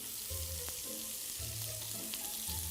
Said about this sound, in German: Du brauchst an allen Seiten erstmal anbraten.